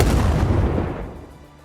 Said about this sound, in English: as the dynamite goes off